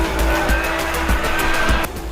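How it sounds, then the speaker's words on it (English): A Formula One car speeds past, loud and close, with a high engine whine in repeated bursts as it shifts through gears. "It's always impressive when you put your right foot down in a Formula One car for"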